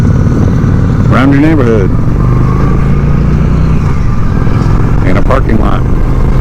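A Honda Shadow 750 ACE motorcycle rumbles steadily at low pitch as it is ridden, its engine drone running continuously beneath someone talking throughout.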